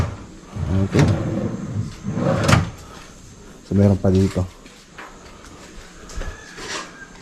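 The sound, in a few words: modular cabinet doors and drawer being opened and closed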